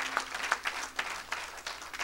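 A short burst of audience applause, scattered claps rising and falling in a fairly quiet room for about two seconds.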